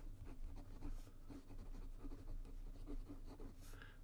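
A Pelikan fountain pen with a smooth medium nib and Royal Blue cartridge ink writing on paper, giving a faint, steady scratching under low background hum, close by and with no talking.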